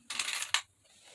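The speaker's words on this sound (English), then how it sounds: "I will put a rusted paper clip on this" A rusted metal paper clip being attached to a paper journal kit: a short, close, bright metallic clinking rattle lasting about half a second, then quiet.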